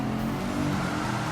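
A racing car engine in Gran Turismo 7 drones steadily and loudly throughout, a continuous mechanical hum with no breaks or other sounds over it.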